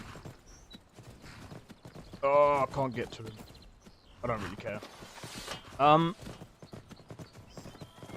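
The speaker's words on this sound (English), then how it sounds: "Wow, what a donkey, mate." Horse or donkey hooves clip-clop in Skyrim, a run of light, regular knocks heard under someone talking casually, with his voice rising over the steps at moments.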